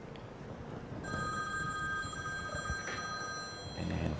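A mobile phone rings during an indoor Ramadan religious lecture, a steady electronic tone that starts partway in and holds against a murmuring, noisy room.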